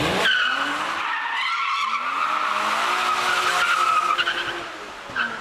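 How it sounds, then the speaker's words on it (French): A car speeding through deserted Paris streets at five in the morning lets out a long, loud tire squeal as it skids in a controlled slide, the screech wavering in pitch over the engine's roar. "Pointe de vitesse et dérapage contrôlé."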